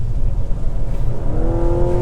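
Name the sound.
Mazda CX-90 PHEV engine accelerating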